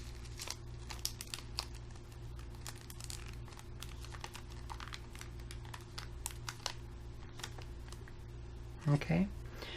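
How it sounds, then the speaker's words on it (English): Paper being folded into an origami crane with flapping wings, soft repeated crinkles and creases close by, with a short louder rustle near the end. "We're going to fold the wings back down."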